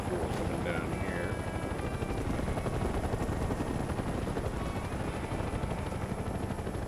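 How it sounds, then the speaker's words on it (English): A helicopter in the video game Mercenaries 2 gives a loud, steady rotor drone that fills the whole stretch without a break, with a thin whistle overhead and faint scattered game sounds underneath. "some other chopper tried to land on me or something"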